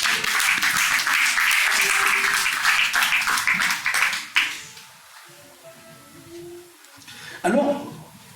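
Church congregation applauding and cheering during a French sermon, dense sustained clapping for about four seconds, then breaking off into scattered claps and murmurs with a brief burst near the end.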